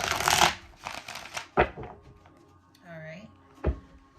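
Sticky tarot cards shuffled by hand, close up, in a few uneven riffling bursts and soft slaps with pauses in between.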